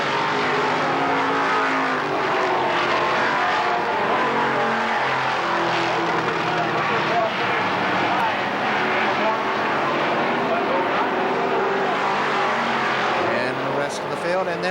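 Race cars battling for position at Kil Kare Speedway, loud continuous engine roar and passing cars on the track, with a commentator's voice running over it throughout.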